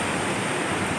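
A river flows under a bridge near the grave site of Syekh Nur Qosim in Garut, a steady, full rushing wash of water heard up close with no break.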